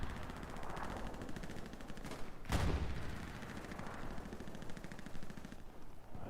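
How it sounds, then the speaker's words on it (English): An artillery barrage hitting tanks in the WWII shooter Hell Let Loose: a single heavy blast booms out midway over a constant, distant crackle of rapid gunfire that carries on throughout at a moderate level. "this is artillery coming down right on the tanks too"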